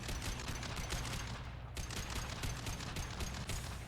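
Dense, continuous gunfire and battle noise from Mass Effect 2, rapid overlapping shots filling the scene at a steady loud level with no talking.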